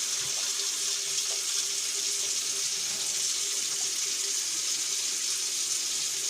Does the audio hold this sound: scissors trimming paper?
no